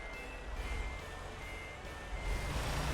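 A truck's reversing alarm beeps steadily under a rumbling engine and road noise in a holiday gift-delivery driving video game, holding a level, fairly loud tone throughout.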